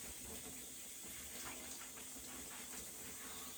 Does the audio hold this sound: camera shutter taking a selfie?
no